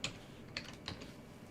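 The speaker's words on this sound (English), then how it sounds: "Yeah, my typing is the problem." A few quiet keystrokes on a computer keyboard believed to have a sticky key, three soft clicks spaced out over a second and a half against a low room hum.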